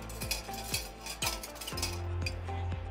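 A utensil scoops roasted garlic mashed potatoes at a food expo demonstration, soft scraping and clinks of metal against a pan repeating several times over steady background hum.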